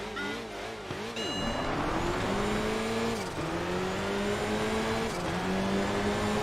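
A hot hatch rally car in Enthusia Professional Racing accelerates through a desert stage, its engine rising through the gears with brief drops at each shift. The droning motor stays close and loud, and there is no talk.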